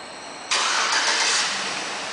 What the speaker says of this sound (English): One of the many options in this vehicle is a remote start,